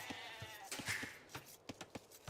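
Sheep in Age of Empires 2 bleat several times in quick succession, short nasal calls repeating at a steady clip over a quiet game background, with no voices.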